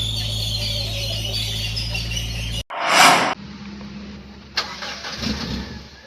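A gas-fuelled minibus engine, first idling steadily with a low rumble, then a loud burst of revving and a squeal, settling into a running engine with another short surge near the end.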